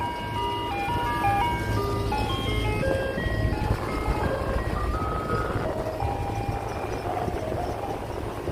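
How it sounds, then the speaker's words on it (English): An ice cream truck's tinkling jingle melody plays steadily over the wash of traffic and city ambience on the Battery Park waterfront in New York City at sunset, with no talk. "Another ice cream truck"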